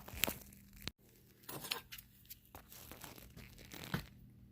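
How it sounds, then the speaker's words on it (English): Copper pipe being cut off a brass fitting during scrap sorting, with crunching, snipping sounds and clinks of metal, a sharp snap near the start followed by scattered rattles and handling noises, fairly close and intermittent. "Now we'll cut it right here and put them in the right bucket"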